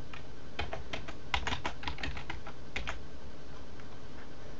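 Keys tapped on a computer keyboard while logging in as root during a LAMP install on Ubuntu, an irregular burst of close, crisp clicks over about two seconds, then fading to quiet room hiss.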